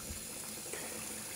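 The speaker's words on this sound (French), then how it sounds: "On fait couler de l'eau" Cold water pours steadily from a kitchen tap, a dense, continuous hiss and splash heard up close without any talking.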